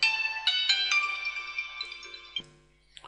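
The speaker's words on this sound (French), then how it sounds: "Ah, téléphone." A phone ringtone plays a bright, melodic run of electronic notes that fades after a couple of seconds and ends with a soft click. No voice is heard.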